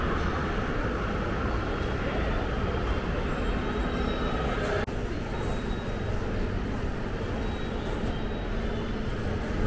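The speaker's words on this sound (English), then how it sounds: "We're going down in the train station right now, the subway." Inside an underground Metro subway station in Panama City, a train's steady rumble and rail noise fill the space for the whole stretch, with a faint squeal and a brief click midway.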